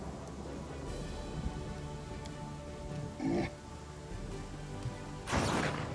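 Rainstorm in the Pathfinder: Kingmaker video game, a steady wash of rain with two louder, sharper bursts like thunder or a crash partway through, and no voices.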